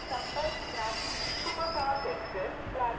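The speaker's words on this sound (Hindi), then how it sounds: "उधर वो जा रही है जानकी एक्सप्रेस, उसको डिपार्चर मिल गया" The Janki Express, bound for Manihari, pulls out of Samastipur Junction with a continuous rumble of wheels on rail and thin, high metallic squeals repeating over the heavy rolling noise, fairly close and loud.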